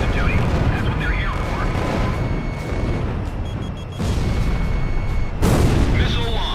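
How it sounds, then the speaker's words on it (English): Bomblet dispenser launching in a combat video game, a long rumbling barrage of booms and blasts that rolls on for several seconds, loud and dense, with a sharper burst near the end and voices speaking over it. "Bomblet dispenser launch."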